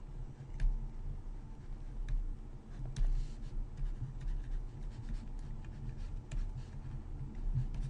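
A pencil draws the contour of hair on paper, making continuous scratchy strokes with occasional taps, close and fairly clear over low background noise.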